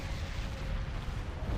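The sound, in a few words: cannon projectiles hitting ship hulls in Sins: Fall of Kobol video game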